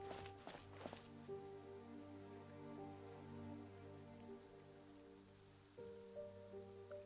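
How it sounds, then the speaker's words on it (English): Soft, regular footfalls of the player character in Genshin Impact, faint against a sustained droning game music bed, with no voices. "Why all of a sudden am I hearing my own footsteps?"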